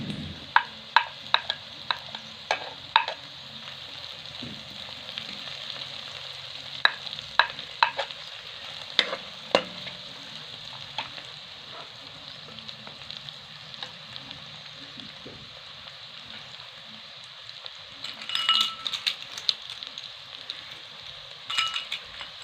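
Vegetables and egg frying for fried rice in a pan, a continuous low sizzle broken by frequent sharp clinks and scrapes of a utensil stirring against the metal, with no talk.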